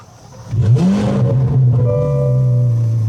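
Corvette C8 Z06 with a full titanium exhaust firing up, heard from inside the car: a sharp rising rev on start, then a loud, steady, deep idle burble that holds to the end.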